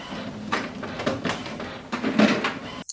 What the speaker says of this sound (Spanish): Una vez que la impresora haya dejado de sonar